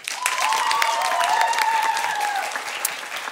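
Sustained applause from the audience of a school musical, a dense, loud wash of clapping that holds steady for several seconds and tapers slightly at the end.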